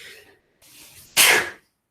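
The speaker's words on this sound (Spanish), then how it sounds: "Estornudar" One sharp, hissing sneeze bursts out close by during a class, preceded by a soft, breathy intake, then silence.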